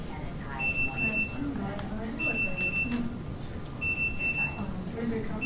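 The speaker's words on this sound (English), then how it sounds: "Oh, that's our timer, isn't it?" A kitchen timer beeps in three repeated bursts of steady high tones, each roughly a second long, sounding over continuous conversation in a room.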